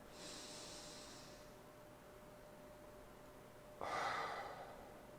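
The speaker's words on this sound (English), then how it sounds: "And so we take 1 more breath." A slow, deep breath in through the nose, then a long pause and a fuller breath out through the mouth, soft and close in a quiet room.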